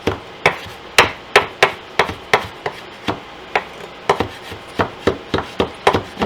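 Fresh parsley being chopped with a knife, a steady run of about twenty sharp, close taps on a cutting board in an uneven rhythm, heard alone.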